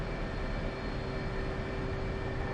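A jet in a flight simulator game sits idling before taxi, its engine giving a steady, loud, continuous whine and roar with no change throughout.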